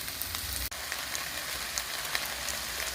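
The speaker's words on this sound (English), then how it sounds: "And now the zucchini's in. Everything's starting to brown up." Zucchini, peppers and garlic frying in a pan for ratatouille, a steady close sizzle with scattered spitting pops and one brief scrape partway through, no voices.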